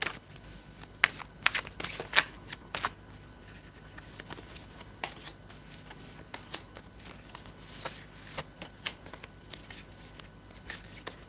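Tarot cards are shuffled for a reading, making repeated close, crisp riffling and sliding bursts that come in irregular clusters over a quiet room background.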